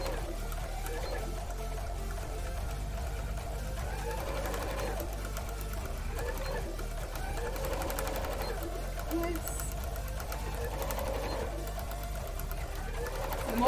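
A sewing machine stitches free-motion embroidery on a cosplay piece, its motor whirring steadily and continuously at close range with only slight surges in pace, while faint voices sit in the background.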